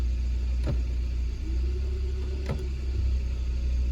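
A 2013 Hyundai Accent with an automatic transmission idles with a steady low rumble, while two brief dull clunks mark the gearbox engaging drive, close to the listener.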